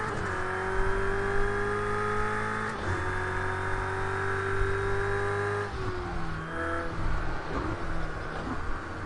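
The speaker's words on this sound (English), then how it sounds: "If my car sounded like that every time I accelerated" A car engine revs hard under acceleration, a loud sustained whine that climbs in pitch, drops back briefly at each gear change, and climbs again.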